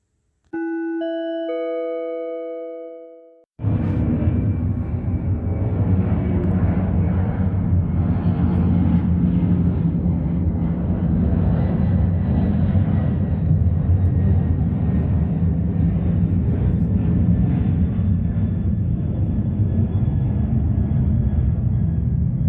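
Planes taking off from Ontario International Airport at night pass overhead in a loud, steady, broad jet roar that lasts nearly twenty seconds, after a short electronic chime at the start.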